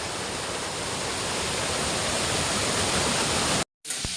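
A hill river in a mountain village in Uttarakhand flowing, heard as a loud, steady broadband roar that cuts out abruptly near the end, then returns briefly.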